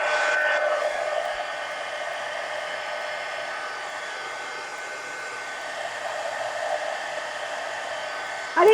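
A handheld hair dryer runs nonstop over a mixed media collage card, a loud, even rushing airflow with slight shifts in tone as it moves, ending with a brief clunk.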